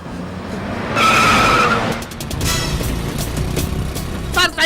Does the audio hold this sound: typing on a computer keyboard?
no